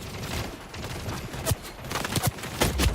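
Gunfire from a weak starting gun in the shooter game Splitgate 2, heard as several short sharp reports scattered over a dense, noisy game mix, with a cluster of shots near the end.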